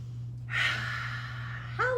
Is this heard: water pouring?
no